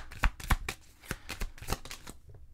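Playing cards shuffled for a card reading, a quick series of crisp riffling snaps and slaps in an uneven rhythm, close and clear with no talking.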